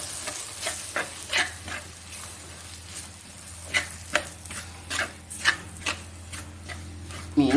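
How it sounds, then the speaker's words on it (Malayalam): Fish curry spices are stirred in coconut oil in a pan, giving soft repeated scraping and stirring strokes over a low, steady sizzle at close range. "ഇതെല്ലാം കൂടെ ഒന്നിട്ട് ഇളക്കിയെടുക്കാം"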